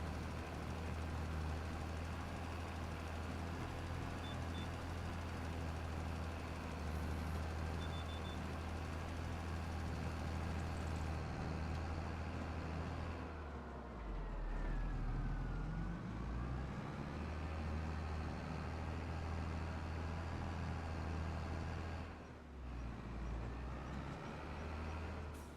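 A tractor engine runs steadily in a field during farm field work, a continuous loud low drone that dips briefly partway through and then resumes, with no voices over it.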